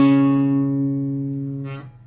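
A bass guitar note is picked on the A string at the fourth position during a bass solo line. One deep sustained tone rings and slowly fades, then a short scrape of noise cuts it off. It plays alone and close.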